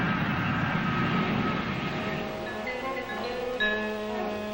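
An airplane at an airport produces a loud, steady engine roar with layered droning tones that ease slightly over a few seconds.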